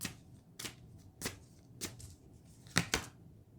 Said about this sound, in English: I'm going to pull another card here.